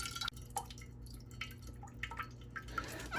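Distilled water rinsing a refined gold bar falls in faint, scattered drips and small splashes, quiet and close, with no talk.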